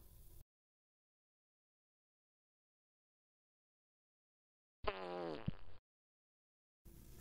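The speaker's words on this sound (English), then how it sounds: "Fart." A single fart sound, loud and close, with a buzzy tone lasting about a second, set between stretches of silence.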